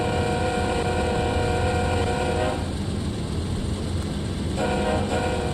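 In Train Sim World 2, on the Horseshoe Curve route, a train rumbles past loud and close with a steady horn-like tone, and the sound thins briefly in the middle before swelling again.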